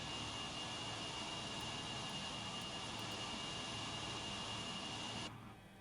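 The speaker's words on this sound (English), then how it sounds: "So let's turn off the engine number 1 start" Both jet engines of a DC-9 running in a flight simulator, a steady loud broadband roar with a high whine that cuts off abruptly near the end, leaving a quieter hum.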